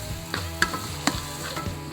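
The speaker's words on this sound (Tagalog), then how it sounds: "pakinggan nyo yung mga tilapsin" Shawarma meat sizzles and splatters on a hot cooking surface, a steady frying hiss punctuated by several sharp pops and scraping clicks, close and fairly loud with no voices.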